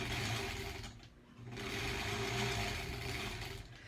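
Sewing machine stitching quilt pieces for a granny squares quilt, a steady close mechanical whir that dips and pauses briefly near the middle before running on continuously.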